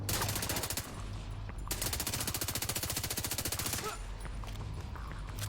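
Rapid automatic gunfire in The Division 2 video game, fired in long, loud sustained bursts with brief pauses between them and a steady low engine-like hum underneath.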